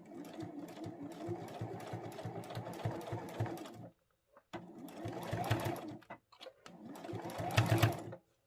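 A sewing machine back-tacks the seam of a phone pouch in three bursts of rapid stitching. Short pauses separate the bursts, and the last run is the loudest.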